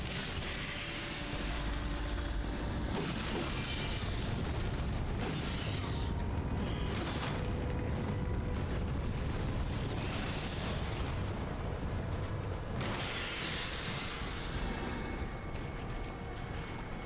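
Chained bomb explosions in the video game Darksiders: a steady rumbling wash under repeated bursts and pops, with several sharper blasts spaced a few seconds apart, fairly quiet overall.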